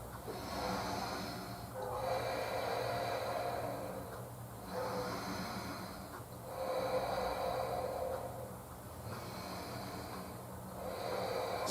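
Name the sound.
deep breathing during prenatal yoga pose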